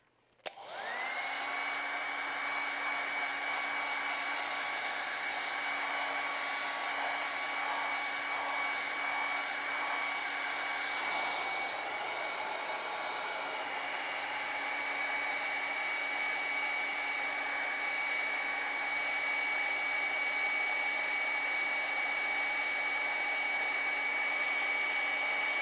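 A hair dryer switches on and blows continuously to dry a coat of acrylic paint on a penguin painting, with a steady, loud motor whine and rushing air and no talk.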